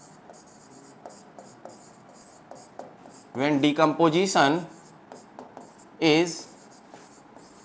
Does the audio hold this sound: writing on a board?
yes